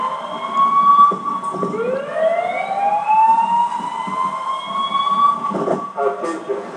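A tsunami warning siren in Alaska after an earthquake wails in long rising and falling tones from a distance, overlapping pitches sweeping up and holding over faint background noise.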